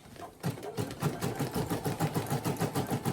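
A Brother SE1900 embroidery machine stitching with metallic thread, its rapid even mechanical chatter starting after a brief pause and repeating at a steady fast rhythm, close and clear with no talking.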